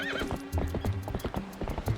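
Horse in the video game Zelda Twilight Princess: rhythmic clip-clop of hooves with a whinny near the start, loud and close over game background sound.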